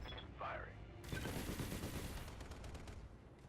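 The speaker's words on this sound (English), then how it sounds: "let's go ahead and fire off our shot" Mech weapons fire in BattleTech, a sharp burst of rapid, loud shots that rattles on for about a second before trailing into a rumbling, fading echo.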